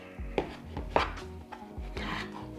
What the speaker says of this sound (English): We'll mix this up a little bit here.